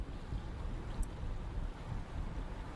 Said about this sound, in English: The sound of waves surrounds you